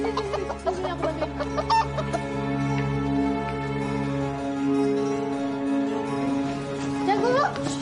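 Close, loud rooster clucks in choppy bursts, most busy at the start, mixed with voices talking and a steady music bed, ending in a rising squawk.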